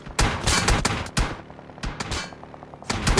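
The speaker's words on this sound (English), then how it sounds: "Bullets will chase him down." During an esports match, video game gunfire rattles out in rapid automatic bursts separated by brief gaps. The shots are loud, close and sharp, with no talk over them.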